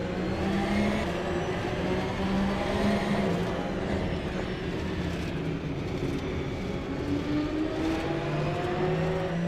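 Porsche Cup race cars lapping the Nurburgring, with a continuous layered engine drone whose pitch rises and falls as drivers come off and back on the power. The sound is steady and fairly even in level, with no talk over it.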